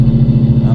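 A Coyote-powered 2016 Ford Mustang GT driving, its engine giving a loud, close, steady low rumble with a slight pulsing throb.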